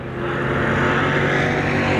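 Race cars roar around an oval track in a steady, loud, continuous engine drone with a slight rise in intensity.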